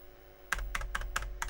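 Keys clack on a Tandy 1000 computer keyboard, with about five sharp, evenly spaced strikes over a low steady hum, close and clear.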